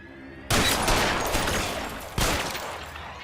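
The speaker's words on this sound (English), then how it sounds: "I got shot a couple times there" Gunfire in L.A. Noire Remastered, two loud sharp bursts about two seconds apart, each followed by a dense rattling decay, close and dominant with no talk over it.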